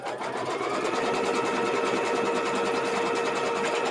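An embroidery machine hums steadily and stitches down quilt fabric held in the hoop, a fast even rattle with no pauses and no talking.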